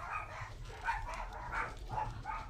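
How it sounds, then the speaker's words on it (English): Several dogs barking and yipping from another floor upstairs, a muffled, repeated run of barks at a moderate distance, with no talk over them. "I just set a bunch of dogs off upstairs, I can hear them."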